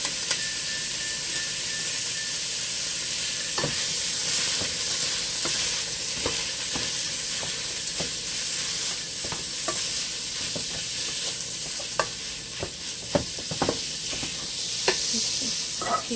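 Ground meat and onions sizzle steadily in a hot pan as a spatula stirs and scrapes them, sharp scraping clicks repeating over a continuous close frying hiss, no voices.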